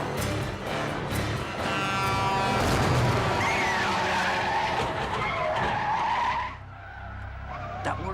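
Heavy vehicle skidding and screeching loudly and close for several seconds as an oncoming semi-truck brakes in a film scene, the squeal tapering off near the end.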